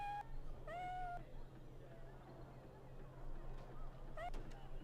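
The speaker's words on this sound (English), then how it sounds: "Kitty cat. Bunch of them." Cats in Dragon Age: Origins give a few clear, drawn-out meows spread across the moment, heard over a steady low ambient hum, with a final short meow near the end.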